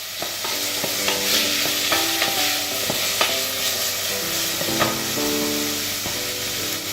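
Garlic sizzling and frying steadily in a pan with thyme, pepper and salt, a continuous close hiss broken by repeated scrapes and taps of stirring, no voices.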